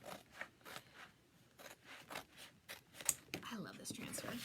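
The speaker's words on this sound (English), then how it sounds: "So I'm just cutting it out." Scissors snip steadily through a Chalk Couture transfer sheet, giving a string of close, crisp cuts with a slight papery rasp and short pauses between strokes.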